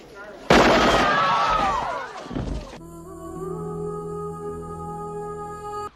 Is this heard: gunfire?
yes